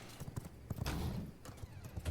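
Horse hooves clip-clopping in the vampire survival game V Rising, a quick uneven run of close hoofbeats with a brief whinny-like sound.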